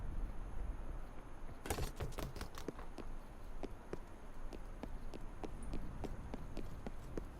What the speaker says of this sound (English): Enemy footsteps are louder